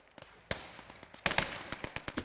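A machine gun in the World War II game Gates of Hell: Ostfront, firing across open terrain in short, sharp bursts of cracking shots spread out at an uneven rhythm.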